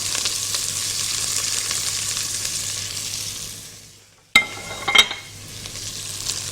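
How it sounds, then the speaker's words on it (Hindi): Carrots and cabbage fry in hot oil, a loud steady sizzle that fades away, then sharp clatters and renewed frying as the vegetables are stirred. "यहाँ पे ऑयल गर्म हो चुका है, इसमें मैं शामिल करूँगी गाजर और बंद गोभी"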